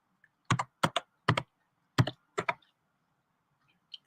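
Keys on a computer keyboard clack in a few short, uneven bursts of typing, close and crisp against near silence, with a faint stray tap at the end.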